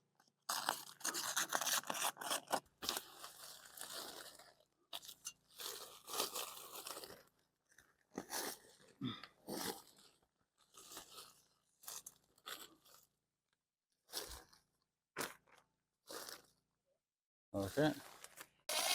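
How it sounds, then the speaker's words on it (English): A hole is cut for 6-inch ductwork running up into an attic, a series of rough crunching, scraping cuts in uneven bursts separated by pauses, close and fairly loud, with a person talking in between. "So I'll just cut a hole."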